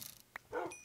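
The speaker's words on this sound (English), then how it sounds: "There's a lot of dogs here." Dogs barking in the Minecraft video game, a short yip followed by a louder bark-like burst, heard alone at moderate volume.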